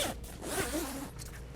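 A zipper runs along a pop-up privacy shelter in one continuous, close, raspy pull lasting under two seconds.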